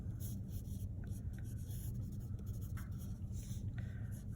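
Pencil sketching a shoe drawing on paper, a steady soft scratchy rubbing of graphite strokes that continues close up for the whole stretch, with no talking.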